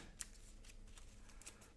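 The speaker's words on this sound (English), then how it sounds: "We got our deck shuffled." A deck of playing cards shuffled at a Marvel Champions card game table, quiet riffling and soft flicks with a couple of sharper card snaps, close and faint, no talk.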